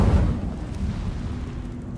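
An Incendio fire spell cast in a Harry Potter video game lets out a heavy, roaring burst that stays loud and booming for about two seconds.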